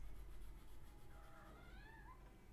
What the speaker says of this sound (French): MDR le chat. Tu veux des câlins?